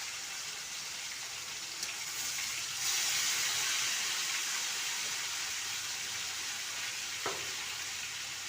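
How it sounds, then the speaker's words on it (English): Fish fry in very hot oil with a steady, loud hiss and crackling sizzle that swells slightly partway through and carries on evenly, with no talk. "So I go put in the fish. Guys, the oil really hot"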